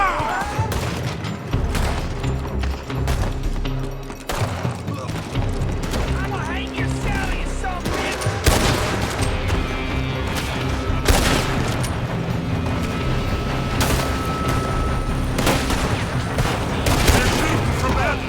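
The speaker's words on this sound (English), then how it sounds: "They're shooting from that building." Sustained volleys of gunfire from a shootout in Red Dead Redemption 2, with repeated loud shots and rapid bursts overlapping densely throughout, backed by booms and a busy game soundscape.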